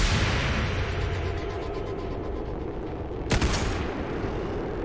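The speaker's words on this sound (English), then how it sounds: "Aoife firing in." Gunfire from a soldier's weapon in the turn-based tactics game XCOM 2: a dense, continuous rattle of shots with one sharp, loud crack near the end, standing alone without speech.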